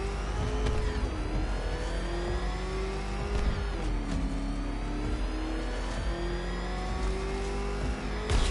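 The Batmobile in a Batman video game roars along at speed, its engine revving and whining up and down in pitch with repeated surges, loud and continuous.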